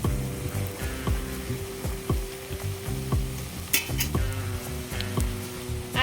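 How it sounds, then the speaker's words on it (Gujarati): Farsi puri frying in hot oil over a medium-high flame produce a dense, close bubbling sizzle that continues throughout, broken by occasional clinks and crackles. "તો આપણું તેલ છે અહીં ગરમ થઈ ગયું છે તેમાં છે આપણે પૂરી નાખીએ"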